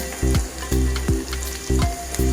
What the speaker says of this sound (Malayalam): ഇതൊക്കെ നമുക്ക് ഈ എണ്ണയിലിട്ടിട്ട് ഒന്ന് വഴറ്റിയെടുക്കണം